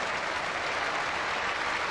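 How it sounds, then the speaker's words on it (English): A cricket crowd at the Basin Reserve, Wellington, applauds an England batsman, Alex Stewart, reaching his fifty in a 1997 Test against New Zealand, a dense, even patter of clapping from many spectators at a distance, without talk. "he acknowledges a very appreciative Basin Reserve crowd"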